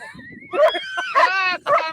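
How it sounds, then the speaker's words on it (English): A dog scuffles with a woodchuck, producing a string of high, strained yelps and whining cries in short bursts, fairly close, with a person talking over parts of it. "Is it the woodchuck or is it the dog?"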